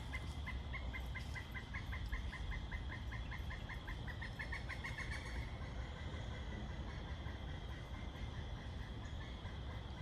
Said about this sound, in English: Is there any way that could be like a wood duck up in the trees?